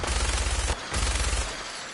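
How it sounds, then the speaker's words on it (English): Enemy gunfire in Fallout 4 during survival mode, a dense burst of rapid automatic shots that pauses briefly and then resumes before fading, loud and close, with no talking over it. "I think I got them opening fire."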